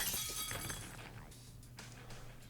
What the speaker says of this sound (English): My back shatters the window and I roll